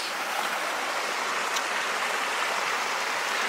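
A wilderness creek flows by a backpacking campsite in Desolation Wilderness, a close, full, continuous rushing of water that stays steady and even throughout with no voices.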